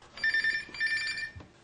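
A telephone at a physiotherapy phone service rings with two short bursts of electronic trilling, close and clear, followed by a brief soft knock.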